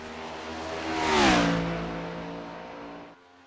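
A race car on a flying lap at Homestead in a racing game, the engine note rising as it approaches, peaking loud as it passes, then dropping in pitch as it fades away before cutting off abruptly.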